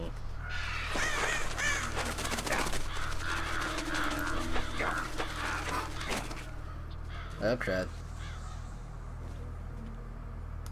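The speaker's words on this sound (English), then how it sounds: "Hello, birds." Crows caw in Metal Gear Solid: Twin Snakes, harsh repeated calls scattered across the scene over steady game ambience, with someone talking over much of it.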